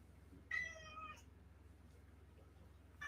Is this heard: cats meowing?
yes